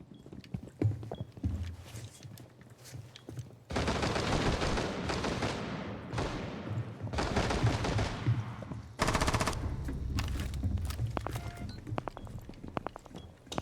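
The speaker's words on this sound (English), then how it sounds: "He's trying to shoot me through the floor." Video game gunfire as a player is shot at through the floor from below, with long, dense bursts of automatic fire in several waves.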